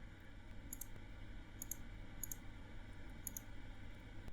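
Soft computer mouse clicks while working in MS Word, four quick double-click bursts at irregular intervals over a faint, steady background hum.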